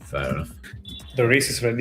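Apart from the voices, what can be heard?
No everyday noise stands out behind the speech.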